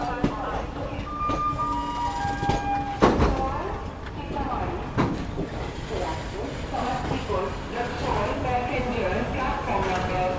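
The Howrah-Raxaul Mithila Express pulls into Samastipur Junction amid a busy station din: steady rumble and clatter, brief tonal horn or whistle notes early on, and a loud knock near three seconds, with voices mixed into the noise.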